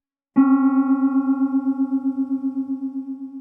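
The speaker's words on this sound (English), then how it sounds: "here's the sound of 3 notes a quarter tone apart." A keyboard plays a cluster of three notes a quarter tone apart at once, held and slowly decaying, with a fast, uneven throbbing beat running through the tone.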